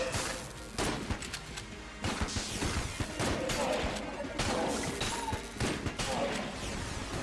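Rapid, dense gunfire from the Icebreaker gun in the video game Enter the Gungeon, a continuous clatter of shots mixed with impacts and crashes, loud and unbroken throughout.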